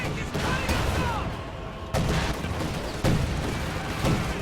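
Anti-tank gun and Easy 8 Sherman tank fire in a WWII strategy video game, repeated sharp heavy cannon booms at roughly one-second intervals over a continuous din of battle noise.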